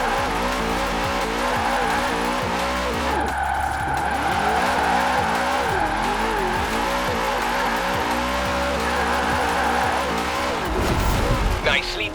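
A car drifts in Forza Horizon 4 with a loud, revving engine and long, wavering tire squeals that rise and fall continuously, ending in a sharper skid burst.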